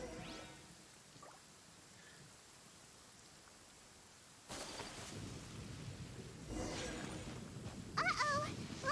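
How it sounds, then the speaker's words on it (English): Lightning storm in Genshin Impact: a steady hiss of rain gives way at the midpoint to a louder, broad rumble of thunder and heavier downpour, with faint game sounds on top. "Uh-oh! Lightning storm!"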